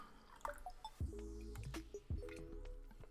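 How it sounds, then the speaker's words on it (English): Water poured into a cup, coming through as a few wet drips and trickles with small splashy bursts, close by and fairly quiet. "I'm going to put some water in this cup"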